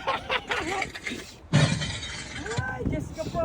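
A glass floor crack-and-shatter effect on a transparent platform at KL Tower, heard as a sudden loud crunching burst that rings on amid excited, panicked voices talking and shrieking throughout.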